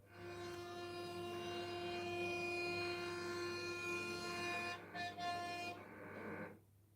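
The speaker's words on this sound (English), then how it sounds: "The only warning motorists get is a very desperate sounding horn from the fast approaching" A fast-approaching train sounds a long, loud, sustained horn over the rumble of the rails, holding steady for several seconds before cutting off abruptly with a couple of short bursts.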